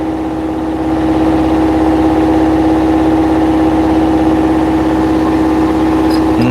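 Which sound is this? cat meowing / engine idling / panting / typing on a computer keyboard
engine idling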